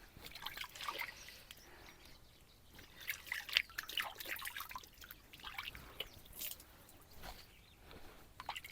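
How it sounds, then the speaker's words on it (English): Hands being washed with collected rainwater at a rural country home, soft intermittent trickling and dribbling of water with small splashes and drips, faint and close. "I'm basically just going to wash my hands here"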